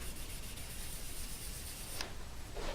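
Sandpaper is rubbed across the painted, gold-flake finish of a custom nine-string electric guitar's headstock, making a continuous close, soft, hissing scrape in steady strokes.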